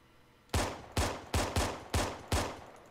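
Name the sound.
pistol gunfire in video game Arma 3 Halo mod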